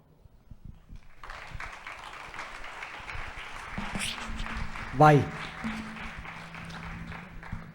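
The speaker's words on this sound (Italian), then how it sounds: "vedo che applaudite" An audience applauds at an Italian public talk, a steady, moderate patter of clapping from a crowd that runs throughout, with a voice speaking briefly over it.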